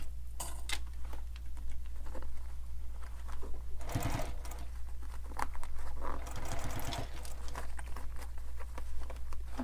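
Sewing machine stitching the fabric of a Piero sling pack, its steady motor hum running throughout with a few faster bursts of needle chatter mid-clip, close and fairly loud with no talking.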